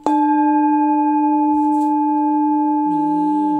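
An 8-inch hand-hammered Full Moon singing bowl tuned to D# is struck once and rings in a long, steady, shimmering drone. Near the end the tone swells and wavers, as if the rim is being rubbed.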